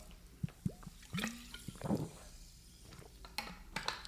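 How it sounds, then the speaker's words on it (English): A few quick sips of water with wet gurgles and small drips, close and intimate, with soft mouth sounds scattered through a quiet room. "I decided that I was going to take a sip of water in the middle of a sentence"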